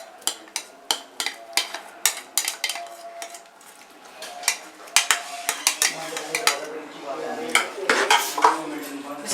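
Chopped tomatoes and finely chopped onions tipped into a pot for mutton keema karahi, a quick series of close metallic clinks and scrapes of utensil against the vessel, bursts of clatter with soft rustles between.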